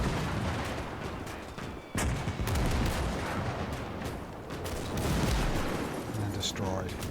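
Tank gunfire and battle noise pounding an infantry trench in the WWII strategy game Gates of Hell, a dense continuous rumble of shots and blasts with sharp cracks near two and five seconds, voices faintly mixed in.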